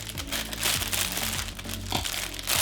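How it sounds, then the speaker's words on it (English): Plastic packaging around merchandise is cut and pulled open, giving a close, steady crinkling and crackling. It runs continuously at moderate loudness throughout. "just cut the plastic"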